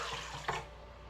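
Very warm water for bread dough pours briefly into a container, a soft close splashing wash with a small burst midway, then fading, no talking.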